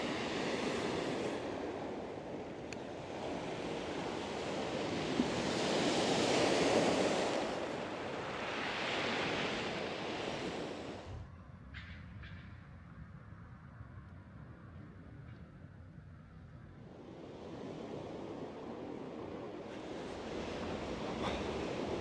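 Sea waves wash onto a French seashore on a cold, grey day, a broad, steady roar that swells and ebbs in long surges, mixed with wind noise on the microphone.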